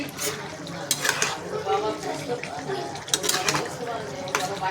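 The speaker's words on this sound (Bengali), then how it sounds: "ঢাকনিটা খুলবো, দিয়ে দেবো মাছটা আর বেগুনটা।" Metal clanks and scrapes as a lid comes off a pan, then fish and eggplant go in with stirring clatter and a soft sizzle, close and fairly loud, with a voice talking over it.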